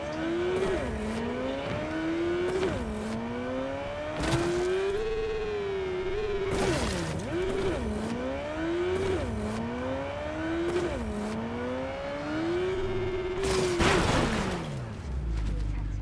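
Motorcycle ridden in the video game Cyberpunk 2077: engine whines rise and fall through gear shifts and revs, with sharp impacts and skids under steady game background sound.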